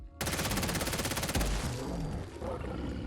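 Sustained automatic gunfire in Fallout 4 aimed at a Deathclaw, a rapid, loud burst of closely spaced shots lasting over a second before trailing off into echoing rumble.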